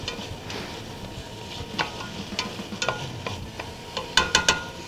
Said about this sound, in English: I love the smell of cooking onions